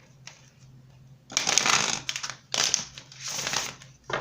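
Tarot cards being shuffled by hand in bursts of riffling and rustling, close and crisp, with pauses between bursts under a low steady hum.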